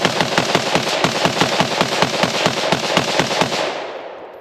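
Rapid bursts of automatic fire from a Steyr AUG bullpup rifle converted to a light machine gun, a steady string of sharp, loud cracks at a fast regular rhythm for about four seconds, tailing off at the end.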